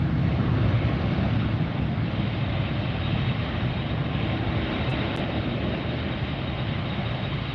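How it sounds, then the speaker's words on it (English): Saudia Boeing 777-300ER airliner coming in to land at LAX, a loud, steady jet engine roar with broadband rumble filling the whole stretch, close overhead and without talk. "Coming in behind me is the Saudia 777-300ER."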